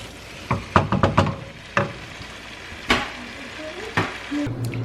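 Dum aloo potatoes cooking in their own steam in a covered pot, giving a soft continuous sizzle with several clattering knocks and stirring scrapes spread through the stretch.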